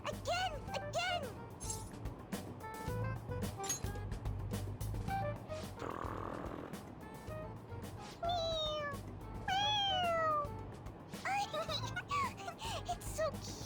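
A toy cat in the video game Persona 5 Royal meows when its head is pressed, giving several short rising electronic mews over background game music, with characters speaking between the cries.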